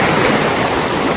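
Seaside surf rolling onto the shore, a continuous close roar of breaking water without any speech.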